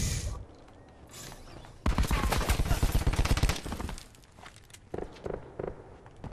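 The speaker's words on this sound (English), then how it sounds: "See, he's using the LMG as well." Rapid bursts of light machine gun fire in a Titanfall-style shooter, a dense rattling volley of about two seconds dominating the mix, followed by scattered quieter shots and distant game action.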